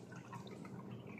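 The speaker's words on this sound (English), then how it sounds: "and then I'm going to add some water" Water pours into dark chocolate cake batter in a bowl, giving a soft, faint, steady trickle and splash.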